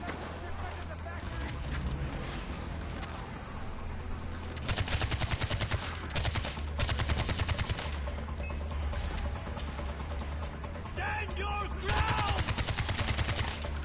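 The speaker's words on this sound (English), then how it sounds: "Oh god, that guy's got a mounted MG." A mounted machine gun firing in the video game Far Cry 4, rapid bursts of automatic gunfire in repeated volleys over game noise, with someone talking intermittently.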